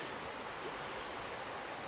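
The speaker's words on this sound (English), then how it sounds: "with a nice flowing river that divides right here into two" Flowing river splitting in two through a Maine forest between Monson and Caratunk, a steady broad rushing of water, close and even throughout, with no voices.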